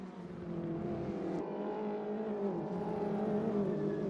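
Ginetta G40 GT5 race cars racing at Croft Circuit, a steady mid-distance engine drone with layered harmonic whine, fairly even in loudness with a slight swell partway through.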